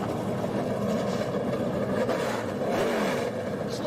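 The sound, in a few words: NASCAR race car engines starting and revving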